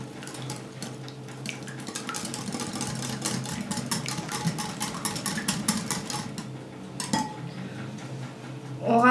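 Two room-temperature eggs are mixed in a bowl, with a busy run of clinking, scraping whisk strokes against the bowl that goes on throughout. No one talks.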